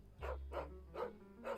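A dog in the Final Fantasy 16 video game barks four times in an even rhythm, close and clear over a low hum.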